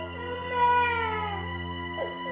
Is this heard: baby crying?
yes